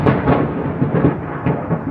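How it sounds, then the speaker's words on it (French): Low rolling thunder from a passing thunderstorm rumbles loudly and continuously, swelling in several heavy pulses without any voices. "Il y a un orage qui passe et il pète."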